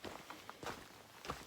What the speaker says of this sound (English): All you hear is your own footsteps.